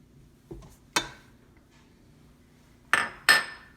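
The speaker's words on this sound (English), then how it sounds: "You want to crack your eggs into another dish and actually add them" Eggs cracked one at a time into a separate dish while baking gluten-free, dairy-free sweet potato mini muffins: several sharp, close taps and clinks of shell against a dish, spaced apart, with two louder knocks near the end.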